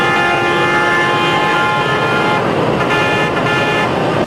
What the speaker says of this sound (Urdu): سڑکوں پر چیختے ہارن اور چلاتے انسانوں کی آوازیں